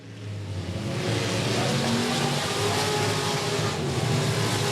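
A race car circles the track at Golden Triangle Raceway Park in a steady, loud engine drone, holding a sustained roar throughout with no talk.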